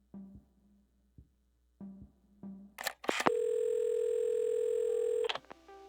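A steady telephone dial tone sounds in the Assemble with Care video game, loud and continuous for about two seconds. Before it come a few soft handling clicks as the handset is picked up, and after it a short click.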